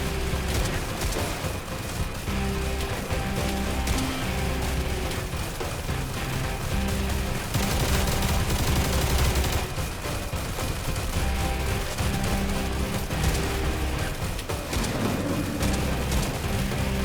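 Shotgun fire from the game Stalcraft:X: dense, continuous bursts of loud blasts and mechanical clatter running throughout, packed tightly with other gunfire and crashes.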